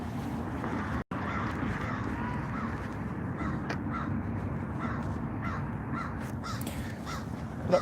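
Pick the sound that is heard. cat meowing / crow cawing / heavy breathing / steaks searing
crow cawing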